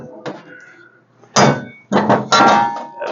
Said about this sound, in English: We'll clamp this.